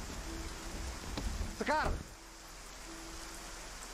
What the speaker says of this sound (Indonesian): Ipan pun pergi meninggalkan Sekar seorang diri yang dimana sedang hujan deras